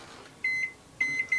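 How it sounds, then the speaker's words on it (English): A microwave oven heating an omelet with cheese lets out a few short, clear electronic beeps over a faint hum, two quick tones followed by a little cluster of three. "stick it in the microwave for 1 minute"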